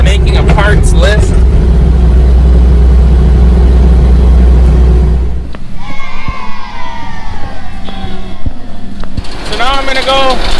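A truck with frozen-up brakes straining to get up into a farm shop, a loud, heavy low engine rumble that cuts off partway, followed by squeaks, clunks and people talking nearby.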